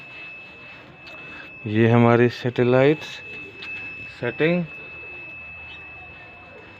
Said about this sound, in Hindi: आपको बीप की आवाज़ सुनाई दे रही होगी।